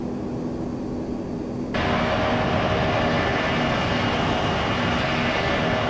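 Boeing 767-300 airliner engines roar in Flight Simulator X, a steady broadband drone that suddenly grows louder and brighter partway through as the view moves outside.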